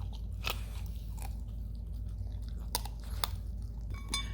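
Beans the dog crunches on crispy smoked pork belly skin close up. Several sharp, brittle crunches and bites break through quieter steady chewing.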